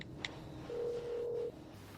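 A telephone is dialed to make a call: a short pair of electronic tones, then one longer steady beep held for under a second, quiet and close in a hushed room with no speech.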